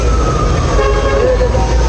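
Saniya Express train passing close by with a steady rumble of wheels and a sustained horn toot layered over the noise, with some talk mixed in.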